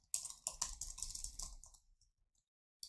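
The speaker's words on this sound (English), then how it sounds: "let's type a little bit of text inside the div" Fingers tap on a computer keyboard in a quick, close burst of clicks for about two seconds, then go quiet before one last keystroke cluster; the room is otherwise silent.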